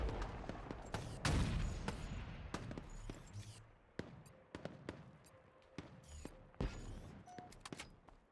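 Rapid, quiet gunfire in Halo Infinite matchmaking, with irregular sharp shots and short bursts scattered through the stretch, one heavier blast early on, against low game ambience.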